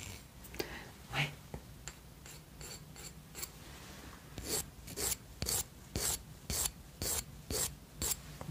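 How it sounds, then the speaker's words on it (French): A nail file rasping across a nail in soft repeated strokes, close and quiet, with rhythmic scraping bursts growing steadier toward the end. "Ça lime très très bien en plus."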